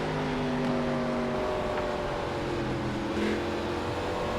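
Several NASCAR race cars from the iRacing video game at New Hampshire, a steady layered engine drone of a pack running close together, humming continuously with slight pitch shifts and no voices.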